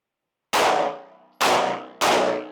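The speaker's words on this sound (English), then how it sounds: "You did great shooting there." Three loud, sharp metallic clangs of rounds striking a steel target, ringing and decaying between hits, the first alone and the last two closer together, with no talk.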